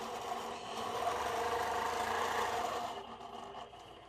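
A quilting sewing machine stitching a Baptist fan pattern, a steady mid-pitched motor whir that holds for a few seconds and then fades down as it slows.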